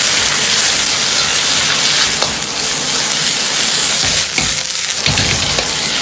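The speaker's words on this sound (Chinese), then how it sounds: "继续保持大火翻炒几下" Mung bean sprouts stir-fried in a wok over high heat, a loud continuous sizzle with a rain-like hiss, broken by occasional clanks and scrapes of tossing, close and with no voices.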